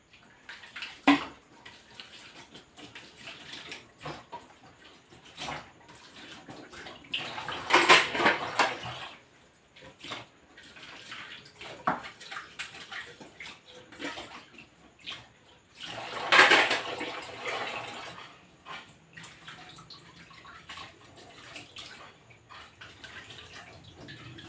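Running water rinsing dishes while washing up in the morning, a steady faint trickle with louder splashing bursts and occasional clinks of dishes and cutlery.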